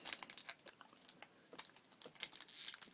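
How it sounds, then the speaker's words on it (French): Fingers crinkle and tug at the stubborn foil wrapper of a Pokémon trading card booster pack, producing faint, close, rapid crackling and rustling in uneven bursts. "Malédiction du booster qui voulait pas s'ouvrir"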